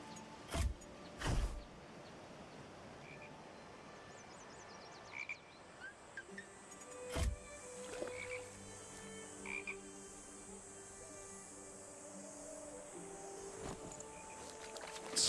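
A toad croaks in a video game, loud close throaty calls coming in scattered bursts over a soft ambient drone, with no voices over them.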